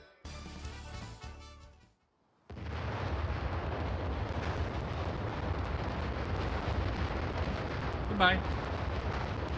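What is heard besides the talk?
volcano exploding in Super Mario RPG video game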